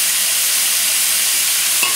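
Beef stew meat browning in a pan over a high flame gives a loud, steady, dense sizzle that stays constant throughout, with no talking.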